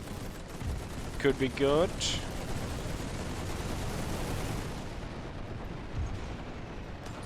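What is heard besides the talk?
gunfire from units firing in the video game The Great War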